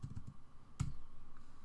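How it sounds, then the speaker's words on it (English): Computer keyboard keys are tapped to enter a scene number, giving a few quiet, quick clicks early on and then a single sharper keystroke, with faint background hum in between. "You can also go directly to a scene just by typing that scene number right here."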